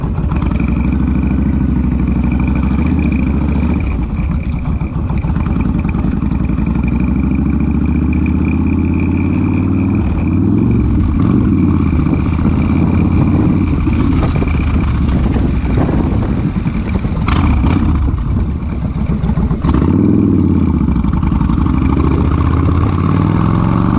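Engine of a 2007 Kawasaki Vulcan Mean Streak cruiser motorcycle warming up from cold. It makes a loud, steady rumble close by with wind buffeting, swelling into revs around the middle and again near the end.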